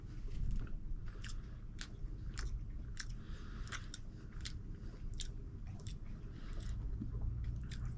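Close, faint chewing and biting of crappie roe: soft wet squishes punctuated by several sharp, crisp bites spaced a second or so apart, with no talking.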